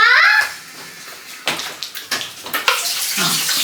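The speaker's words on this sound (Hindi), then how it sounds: "रुको अंगूर भी धो रही हूँ" Grapes and strawberries rinsed under a running kitchen tap, a burst of flowing water followed by irregular splashes and rustling of fruit, with a voice faintly in the background.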